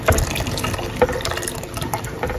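Dissolved clear agar-agar solution pours steadily into a pudding mixture as it is stirred, making a continuous close liquid splashing and gushing with small stirring knocks and no talking.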